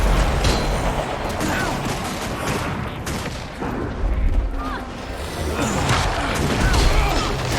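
Bursts of gunfire and weapon fire in the video game Guild Wars 2, dense overlapping shots and booms in a chaotic battle with voices mixed in throughout.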